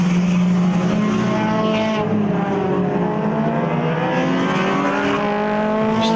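Sports 2000 race cars roar past on a circuit during a regional racing festival, a steady loud engine drone with shifting pitch as cars pass, one car trailing smoke.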